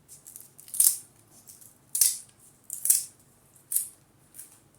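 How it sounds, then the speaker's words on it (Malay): Scissors snip through kaffir lime leaves in a kitchen while duck rendang is prepared, five crisp, close cuts spaced roughly a second apart against a quiet background. "Dan kita guntingkan kaffir leaf ataupun daun limau purut."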